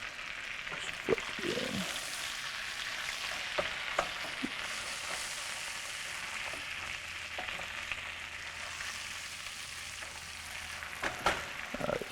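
A steak sizzles in foamy butter in a pan, giving a continuous bright frying hiss with occasional pops and clinks of a utensil, close and steady for the whole stretch, with no voices.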